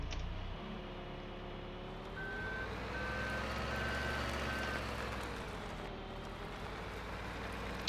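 Reversing alarm of a telehandler in Farming Simulator 17 at night, a steady series of evenly spaced beeps over a loud, continuous diesel engine drone, no talk.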